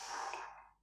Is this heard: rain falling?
no